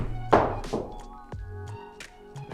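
A blade 3-iron strikes a golf ball outdoors, giving a sharp, solid thunk near the start and a second impact shortly after, with faint talk and ambient noise filling the gaps.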